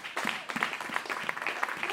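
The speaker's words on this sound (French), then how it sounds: "Acclamez pour notre sœur." Applause from a church women's conference congregation in Switzerland, dense and steady for two seconds, close and fairly loud with scattered distinct claps.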